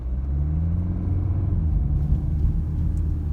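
A car pulling away from traffic lights and driving on, a steady close low engine rumble and road noise with no talk.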